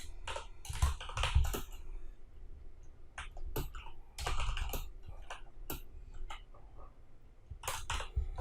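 A computer keyboard clacks in quick irregular bursts as PHP code is typed, close and clear against a quiet room, with short pauses between runs of keystrokes.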